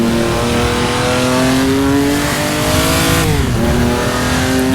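A Ferrari race car engine howls at high revs in a racing game set on the Targa Florio road circuit, a loud sustained whine that climbs, dips briefly as it shifts, then climbs again.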